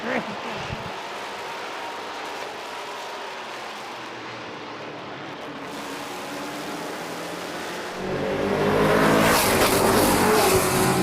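Race cars roar and accelerate together at the start of a heat race, a dense engine drone that swells louder near the end, with an announcer talking over it.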